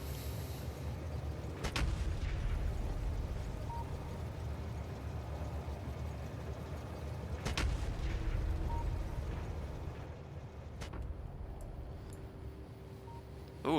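Video game guns firing at enemies, a few heavy booming shots spread several seconds apart over a constant low rumbling background, with no talking.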